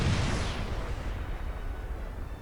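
Starship weapons fire and an explosion in the Star Fleet Command video game, a loud booming burst at the start that rolls off into a long, dense rumbling decay.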